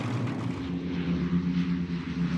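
A four-engined Avro Lancaster bomber flying low at night gives a steady, loud propeller-engine drone that holds evenly throughout, with no speech.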